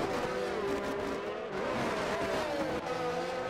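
F1 22 race cars on a video game circuit produce a steady engine whine with shifting pitch and a brief dip as one car spins, moderately loud and alone without voices.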